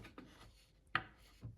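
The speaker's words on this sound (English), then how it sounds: "I'm using a screwdriver to really press that into the neck joint" A screwdriver pushes and scrapes acetone-softened plastic wood into the wooden neck joint of a greater scaup drake decoy, making a few soft rubbing scrapes and one sharper scratch, close up and quiet.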